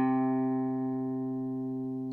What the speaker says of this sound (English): place it on the 3rd fret of the 5th string